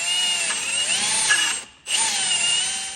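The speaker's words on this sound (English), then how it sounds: "What's also cool when you have friends that are playing with drills in the background." A power drill whining in a workshop during an engine install on a Can-Am X3, a steady high motor tone that cuts off briefly and then spins back up, close and loud.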